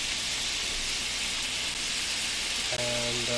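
Beef sears in a hot pan with a constant, close hiss of sizzling, steady and loud for the whole stretch, with a brief tonal hum near the end.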